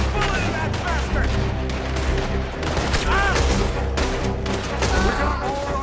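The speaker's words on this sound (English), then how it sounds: "Put a bullet in that bastard!" Dense, loud gunfire in Red Dead Redemption 2, rapid overlapping shots and booms in a chaotic shootout, continuous throughout with shouting voices mixed in.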